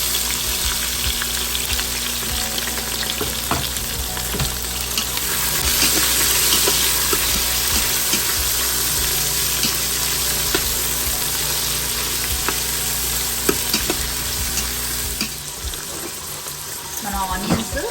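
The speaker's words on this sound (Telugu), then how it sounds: "మన ఆనియన్స్ కొద్దిగా వేగాయి." Thinly sliced onions fry in an Instant Pot while a veg biryani is being made, giving a continuous close sizzle with scattered stirring clicks and scrapes throughout.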